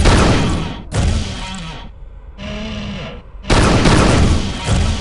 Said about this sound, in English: The dispersion pistol doesn't pack a whole lot of punch, but it's always there for you because it never runs out of ammo